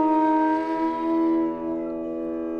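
A bansuri flute holds a long, steady sustained tone on the notes Ni and Sa, close and clear, fading gently toward the end with no voices present.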